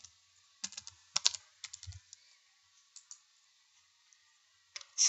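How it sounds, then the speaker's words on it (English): Keys clack on a computer keyboard in short, irregular bursts of crisp close clicks separated by quiet pauses, with no voice present. "Let's try typing sapphire."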